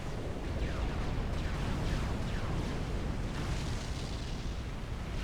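Cruise missiles slam into an enemy navy in the strategy game Forged Alliance Forever, a dense, continuous rumble of overlapping blasts and booms, loud and unbroken throughout.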